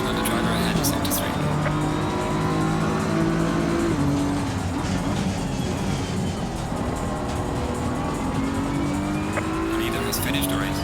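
A race car engine in the video game Assetto Corsa Competizione on the final lap, a loud sustained drone that climbs and drops with gear changes, with occasional tire squeal.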